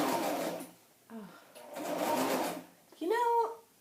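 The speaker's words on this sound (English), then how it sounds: "I have my machine set on zigzag stitch" A sewing machine set to zigzag stitch runs in short bursts while stitching a paper scrapbook layout, a humming whir heard under a voice talking nearby.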